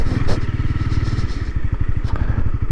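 A 2015 Honda CB300F motorcycle idling close by, its steady low engine pulse running throughout with a brief clatter partway through.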